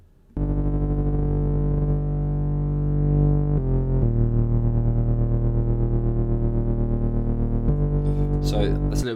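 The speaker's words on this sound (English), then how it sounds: "This LFO is going to be controlling the volume of both of the oscillators A and B." Serum synth bass patch with an LFO pulsing the volume of both oscillators, a sustained buzzy tone that shifts pitch a few times and wobbles in a steady rhythm, heard alone until a short voice at the end.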